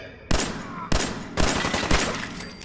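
Four loud, close gunshots ring out from a weapon in the video game Fallout 4, fired at steady half-second intervals, each with a short echoing tail and no talking over them.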